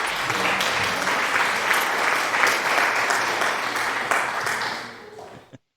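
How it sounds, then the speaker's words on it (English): A crowd applauds loudly and steadily, dense clapping that holds for several seconds before tapering off and stopping abruptly. "Thank you for the applause."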